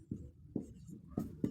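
Pen scratching on paper in quiet, faint rhythmic strokes, four short bursts of marking while working out a geometry problem about a clock's minute hand, with no voice over the writing.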